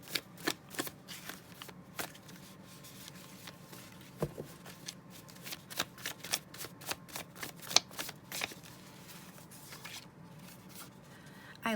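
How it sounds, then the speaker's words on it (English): Tarot cards are shuffled by hand for a reading, a quiet, close run of crisp riffling snaps and soft slides in an irregular rhythm. "I'm going to get one more card to clarify the 5 of Wands"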